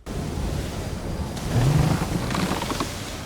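Stormy seas in Assassin's Creed 3, with steady roaring wind and crashing waves around a sailing ship, a continuous close wash of noise that swells slightly midway.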